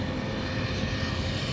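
An RC Carbon Z airplane takes off with flaps down and flies at a world-class RC aviation event, a steady, loud engine and propeller drone held without a break throughout.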